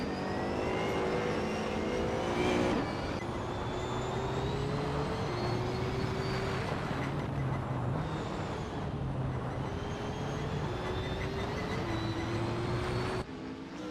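Race car engines droning steadily through a circuit in a racing game, including a 2003 Panos LM P01 Roadster, with sustained whining tones that shift pitch as cars lap, fairly loud and without speech.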